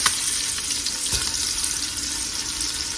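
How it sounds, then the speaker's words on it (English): Onions sizzle and fry with bacon in a hot pan on a back stovetop burner, a steady close crackle with a brief clatter near the start and a soft knock midway. "I'm going to drop these few onions that I have in here"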